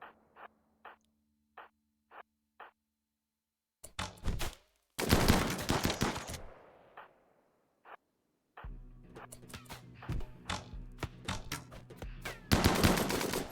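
Gunfire from colonists and raiders in a RimWorld battle, starting with a few evenly spaced single shots, then erupting into dense, overlapping bursts and volleys of weapon fire with gaps between flurries.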